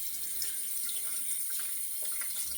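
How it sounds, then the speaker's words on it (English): Tap water runs steadily while a single-edge cartridge razor is rinsed under it, an even splashing hiss with small shifts as the blade moves through the stream. "you're gonna want to rinse that razor out"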